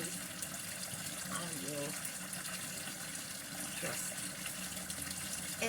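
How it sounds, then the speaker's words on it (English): Water runs steadily from a kitchen faucet in a home kitchen, a loud continuous rushing hiss under a person speaking nearby. "I'm going to have to turn that water off. You're probably hearing the water and not me"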